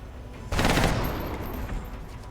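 Gunfire in the video game XCOM: Enemy Unknown, a sudden loud burst of rapid automatic shots that erupts after a quiet start and then trails off into rumbling echo.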